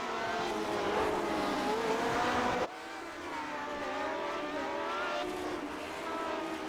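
Classic Lotus Grand Prix race cars at the Detroit Grand Prix circuit in iRacing howl under load in a continuous, steady engine drone, with one abrupt cut to another car's engine note midway, and no talk.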